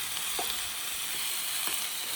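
Chili chutney with spices sizzles and fries in a pan at a camp, a steady close hiss with a few faint stirring scrapes, no voices.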